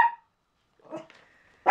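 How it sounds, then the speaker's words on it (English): Small dog named Gigi barking and growling indoors, a sharp bark, then a low growl with a whining tail, and another loud bark at the end, close by with silence between. "Here comes Gigi having a growl again."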